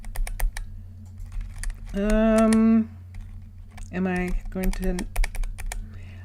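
Computer keys tap away at close range in a quick, steady patter during a Minecraft session, while a voice talks and hums over the clicking.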